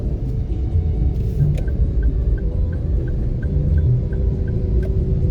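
Heavy trucks rumble past on a road while crossing toward a truck depot, a steady low roar of traffic close by with a faint repeating electronic beep over it.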